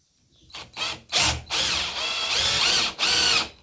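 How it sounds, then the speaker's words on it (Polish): Power drill boring a hole through a small copper keychain blank laid on a wooden board, several short whirring bursts starting and stopping, the last two longer and steadier, close and loud with no talk. "Wiercę to"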